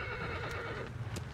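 A horse whinnies and its hooves clip-clop in Shadow of the Colossus, a faint neigh riding over a steady low rumble of game sound, quiet and somewhat distant.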